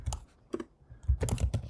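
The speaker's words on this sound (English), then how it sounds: "typing our name" Typing on a computer keyboard, irregular bursts of clicky keystrokes in quick clusters with short pauses, close and clear with no talking.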